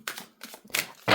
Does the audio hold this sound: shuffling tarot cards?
yes